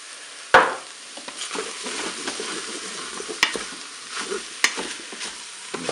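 A spoon stirs chorizo and cauliflower with tomato paste and dried parsley in a Cookeo pot, scraping and clacking against the sides with a few sharp knocks over a steady sizzle.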